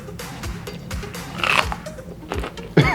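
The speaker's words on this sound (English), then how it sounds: "It's a big pepper to eat. It's very satisfying, but crunch." Teeth bite into a big, crunchy hot pepper, giving several close, sharp crunches followed by chewing, loud and alone with no talk.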